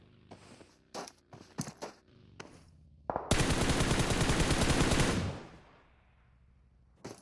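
Gunfire in the PUBG Mobile video game during a championship match: a few scattered single shots lead into a sustained, loud automatic burst lasting about two seconds, then a quieter tail and a final distant shot.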